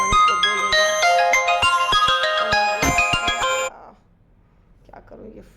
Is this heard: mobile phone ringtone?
yes